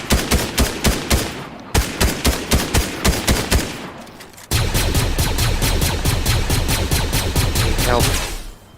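Rapid bursts of video game gunfire from a Fortnite squad match: a string of evenly spaced sharp shots, a brief pause, then a dense sustained volley of loud close shooting.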